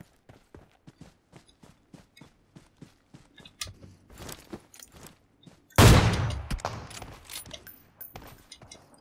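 Gunfire in the mobile shooter game PUBG Mobile: a long run of sharp, evenly spaced shots, then a loud close blast followed by a dense burst of rapid fire, with no talking.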